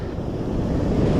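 Rough surf during high king tides on the California coast makes a steady, loud roar of crashing waves, mixed with gusting wind buffeting the microphone.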